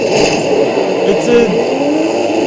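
A 2005 Ford GT engine in the Forza Horizon 5 racing game, a steady, loud engine drone held throughout with slight rises in revs.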